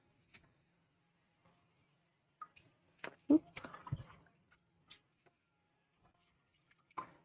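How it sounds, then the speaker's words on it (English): Rinsed sprouts are drained by the fistful in a colander and shaken, giving sparse wet drips and splashy rustles with a cluster of louder shaking bursts, close and otherwise quiet. "transferring them to the colander for draining by the fistful and shaking out loose water and dirt"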